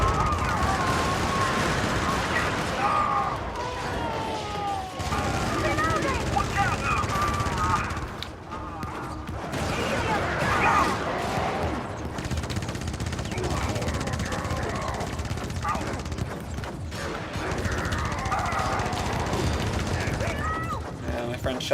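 Gunfire from a video game shooter, bursts of shots and mechanical clatter running through dense, busy game noise with no clear pauses.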